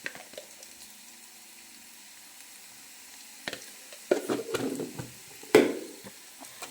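Beef frying in a pan with chili powder keeps up a low, continuous sizzle, broken by louder scraping and stirring bursts midway through. No one speaks.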